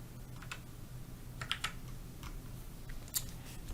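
Soft computer keyboard key presses and mouse clicks, scattered irregular taps over a low steady hum, faint and with no voices.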